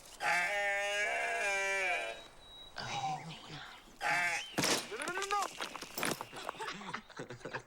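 A baby goat gives a long wavering bleat, then shorter cries follow amid people talking nearby, close and clear.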